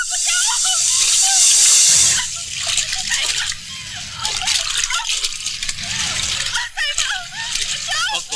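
Splashing and sloshing in deep water, choppy bursts of movement through the water with a loud gush early on, under frequent talking voices.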